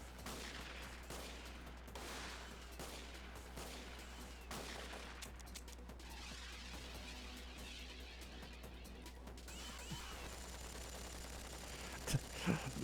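Rapid 9mm gunfire in a video game, crackling in dense overlapping bursts under steady game background noise, with a few sharper louder shots near the end.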